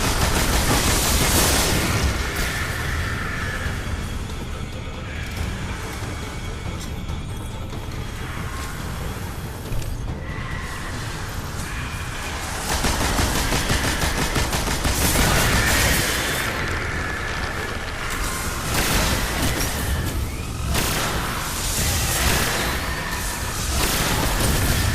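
Gunfire while fighting wizards in Destiny during a solo Titan Nightfall, dense bursts of rapid shots and booming blasts in loud clustered volleys with brief quieter lulls between them, no talking.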